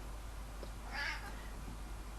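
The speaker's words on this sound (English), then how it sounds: "My cat decided to visit me." A house cat named Gizmo gives a single short meow, faint and somewhat distant, over a low steady background hum.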